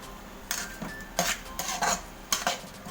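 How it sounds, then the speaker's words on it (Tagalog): Shrimp paste (alamang) being stirred in a pan for Bicol Express, with metal utensil scrapes and clinks against the pan in short bursts, moderately close and not loud, with a light background hiss and no talking. "Halo-haloin lang natin tong alamang"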